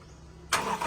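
A Toyota Fortuner 2019 with a hard-starting fault cranks and fires, a sudden loud burst of engine noise after half a second of near quiet.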